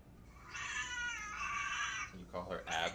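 A pet cat named Abby gives a drawn-out, whiny meow and then a shorter second cry, fairly close in a quiet room.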